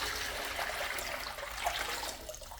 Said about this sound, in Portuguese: Vou acrescentar aqui, gente, primeiramente 5 litros de água em temperatura ambiente